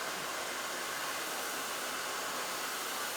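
A hair dryer blows steadily during a round-brush blow-dry, a loud, even, continuous rush of air with no voices.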